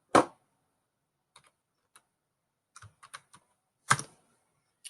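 Keystrokes on a computer keyboard while values are entered into Excel cells: a sharp opening key hit, then sparse isolated clicks and a few quick clustered taps, closing with a firmer press, close and clear in a quiet room.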